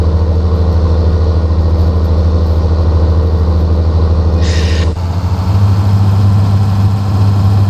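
A farm machine engine in Farming Simulator 19 idles with a steady, loud low chugging throb that runs unbroken, with a brief hiss partway through and a slight shift in tone afterward.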